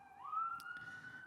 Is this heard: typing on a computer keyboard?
no